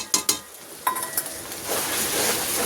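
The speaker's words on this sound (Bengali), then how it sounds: "এবার একটু ভালো করে কষাতে থাকবো" Ginger-garlic paste with turmeric, chilli, coriander and cumin powders sautéed in a pan: a few sharp spoon clanks against metal, then a steady rising sizzle of frying, close by, no talking.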